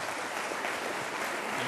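Steady, dense applause from an audience welcoming a guest speaker at a business school talk for MBA students, a continuous wash of many hands clapping at close range with no voices above it.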